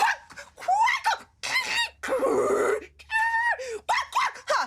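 A human voice imitates a bird's quacking call, giving a rapid series of nasal, honking 'kvak' sounds in short bursts, close and loud.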